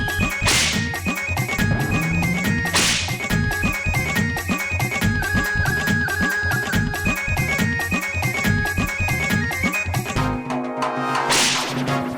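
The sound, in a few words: whip crack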